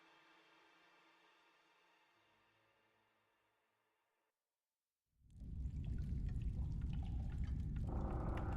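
Water being raised in Dragon Age Inquisition: after a faint hum fades into near silence, a loud, rushing surge of water bursts in and keeps roaring steadily, close and full.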